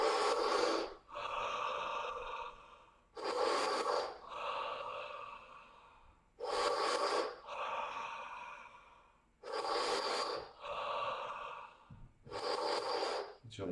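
Deep breathing during a morning breathing exercise: about five slow, heavy inhale-exhale cycles, each a loud close airy rush followed by a pause, with no speech.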